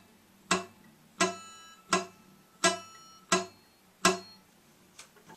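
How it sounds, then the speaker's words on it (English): Guitar high E string picked straight down with the thumb catching the string, giving six sharp plucks at an even pace, each decaying fast into a brief dull ring, fairly soft and close. "If we pick directly down, we're probably going to hit the string with the thumb, which would sound like this"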